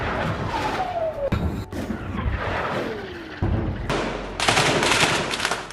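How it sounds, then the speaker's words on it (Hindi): Heavy gunfire near Al-Shifa hospital in Gaza, sharp cracks and sustained bursts layered over a dense, loud background, with vehicle-like rumble and a steady wash of noise throughout. "वहां आसपास ताबड़तोड़ फायरिंग हो रही है"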